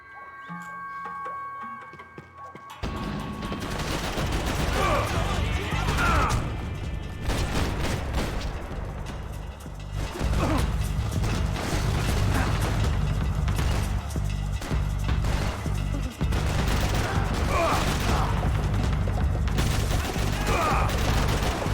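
Sustained in-game gunfire from the video game Max Payne 3 after a quiet opening, with loud, dense bursts of shots and impacts crackling through the action, layered over a low game soundscape.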